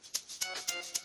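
A shaker sample played on the C4 note in FL Studio Mobile gives four quiet, bright hits in an even rhythm over roughly a second, with a soft hiss between them.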